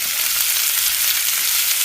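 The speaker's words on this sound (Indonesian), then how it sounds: "Goreng-goreng, kemudian bolak-balik hingga ke semua permukaan kecoklatan." Beef pieces for soto betawi sizzle and fry in hot oil, a loud, steady crackling hiss held close for the whole short stretch, with no voices.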